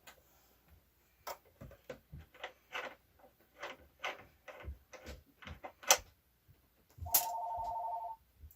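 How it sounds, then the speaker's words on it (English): A telephone rings once, a loud electronic trill lasting about a second, after a string of irregular knocks and clicks from a machine being worked on nearby; no one speaks. "Well, of course I had a phone call."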